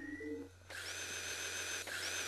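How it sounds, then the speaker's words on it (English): Power drill fixing a machine in the video game Earthbound, a faint buzzy whir that kicks in suddenly after a short chirpy tone and then runs steadily, with a brief dip near the end. "he just takes out his power drill and fixes it up, just like that"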